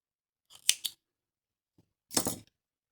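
Scissors snip through crochet yarn while finishing a Christmas star decoration, two quick close cuts with a crisp metallic snap, then a pause and a longer slicing snip, no talking.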